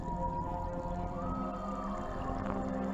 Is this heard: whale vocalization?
yes